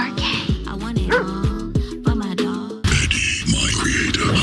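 A dog barks repeatedly in quick, loud, close yips and whimpering bow-wows, followed by a burst of noisier sound.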